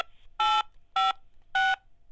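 Three separate dual-tone keypad beeps, each about a quarter second long and evenly spaced, pressed while navigating an automated cable TV and internet service phone menu, loud and clean with no voices.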